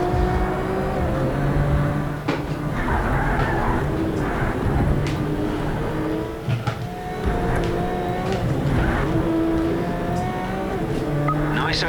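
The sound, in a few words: race car driving on track in Project Cars 3 video game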